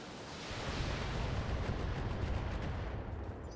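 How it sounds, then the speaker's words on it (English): A BattleTech mech unloading all its weapons at once, a dense roaring barrage of cannon and missile fire that swells and holds loud and sustained, no voices. "Firing all weapons."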